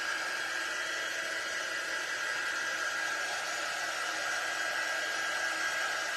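A dryer blows hot air steadily over freshly inked fabric on a tea towel, a constant, fairly quiet hiss and whir with no pauses or changes.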